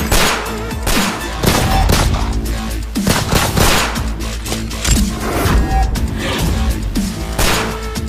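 Rapid, loud gunfire bursts in a dense, continuous fusillade, shots overlapping with crashing impacts throughout, close and unrelenting.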